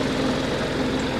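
A Massey Ferguson 1220 tractor engine warming up at idle before an oil change, a steady low diesel rumble with an even pulsing beat, close and continuous with no talk.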